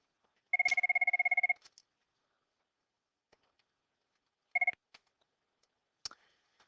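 A telephone rings for an incoming call: one long trilling burst, then a short second burst a few seconds later, with faint clicks between, in a quiet room without talking.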